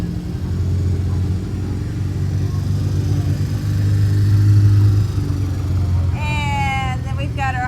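Steady low engine rumble of a vehicle in a music parade, continuous and close throughout with a swell in the middle, while a voice talks over it and a musical tone rises near the end.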